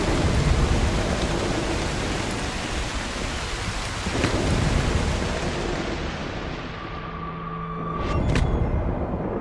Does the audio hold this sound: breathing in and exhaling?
no